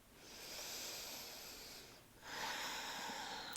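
Slow, deep breathing during a yoga practice: a long soft hissing inhale or exhale, a brief pause, then another breathy airflow, close and quiet with no talking.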